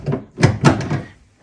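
Gear shift lever on a Subaru-powered Covin Porsche 911 replica knocked out of reverse, giving a few close, short clunks and clicks in quick succession with no talk.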